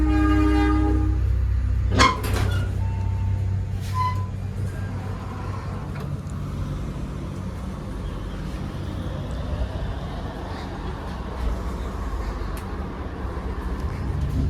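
The KA Madiun Jaya executive train rolls along the rails with a steady rumble from on board, after a few sharp clanks and a brief horn-like tone early on.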